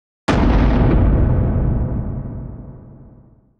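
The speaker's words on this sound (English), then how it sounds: "listen to the thud on the table when this thing falls" A Cold Steel 4 Max Scout knife dropping onto a table, one sudden heavy impact after a moment of silence, followed by a long decaying ring that fades over about three seconds.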